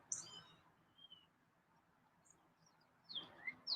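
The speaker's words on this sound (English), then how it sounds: "we got good birds here. We have a very healthy cardinal community" Cardinals and other birds sing outdoors in a few short, high whistled phrases at the start and again near the end, faint and distant over a quiet background hum.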